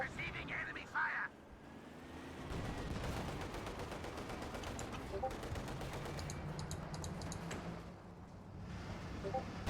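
Company of Heroes 2 battle gunfire crackles as steady machine-gun and rifle bursts under ongoing rumble, with tanks such as an IS2 and T-34 nearby. A commentator talks over the din.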